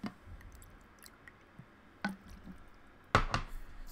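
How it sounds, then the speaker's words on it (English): A person takes quiet sips of water, with small wet clicks and squishy mouth sounds, then a louder gulp near the end, close and faint in a quiet room. "Let me take a sip of water while we wait for the opponent to show up."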